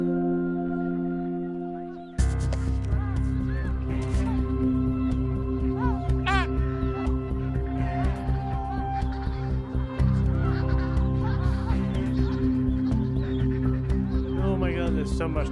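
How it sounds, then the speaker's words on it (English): A fluffy albatross chick in Antarctica gives loud, honking calls in repeated bursts, close by, with people talking over them. "fluffy albatross chick."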